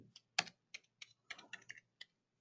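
Fingers type on a computer keyboard in short, quiet bursts of crisp keystrokes separated by brief pauses, close up and alone with no talk.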